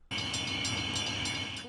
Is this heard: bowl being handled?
no